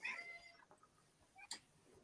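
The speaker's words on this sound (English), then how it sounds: "I thought I heard a cat." A cat meows faintly in the distance, a short high call near the start and another brief cry later, otherwise quiet surroundings.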